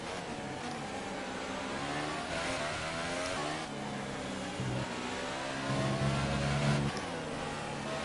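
A Williams Formula 1 car in the game F1 2018 screams along at high revs, its engine note rising and dropping through gear shifts in a continuous loud drone with no talking.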